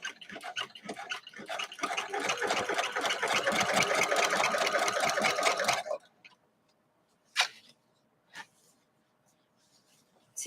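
A sewing machine stitching a quilt hums steadily for about six seconds, then stops, leaving a few faint clicks and taps.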